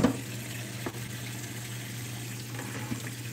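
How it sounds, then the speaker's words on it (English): Cold tap water running over freshly cooked eggs in a kitchen sink, a steady low splashing stream with a faint hum, continuous and fairly quiet throughout. "I'm going to take them over here and put cold water on them"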